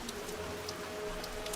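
Steady rain falling on leaves, a soft, even wash of patter with occasional brighter drops, faint and continuous with no voices.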